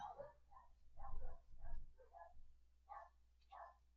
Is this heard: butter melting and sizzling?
no